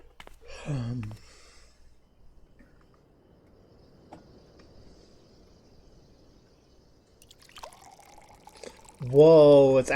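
Water pours in a Final Fantasy XIV cutscene, a soft steady trickle running for several seconds between short bursts of voice at the start and end.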